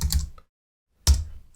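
Two brief bursts of typing on a computer keyboard are heard up close, with a clear pause of silence between them.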